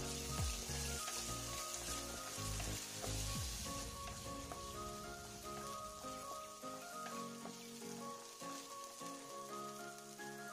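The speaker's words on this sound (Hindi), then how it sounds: "यहाँ पर 100 ग्राम हरा मटर लिए हैं, इसे भी भून लेंगे।" Roughly 100 grams of green peas roast in a pan, giving a steady sizzling crackle with a few clinks of stirring early on, close and moderate in level, no talk.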